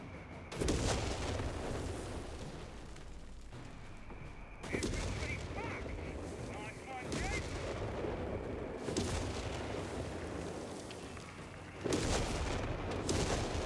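Artillery strike in the Company of Heroes 3 battle game, with heavy booming blasts and rumbling impacts recurring over a continuous din of gunfire. Loud, dense and layered, with sharp bursts every few seconds.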